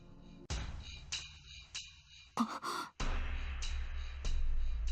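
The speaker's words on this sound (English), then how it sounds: "She gasps." A woman gasps sharply in the middle of a quiet scene, set among abrupt bursts of other sound and fuller noise afterward.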